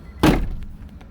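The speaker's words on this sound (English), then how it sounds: "Let me close this door." A door closes indoors with a single solid, close thunk and a brief fade afterward.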